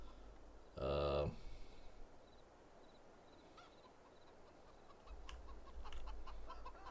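Chickens in Farming Simulator 22 give soft, sparse clucks over a steady outdoor farm ambience, with a brief loud burst of noise near the start and a low rumble joining later.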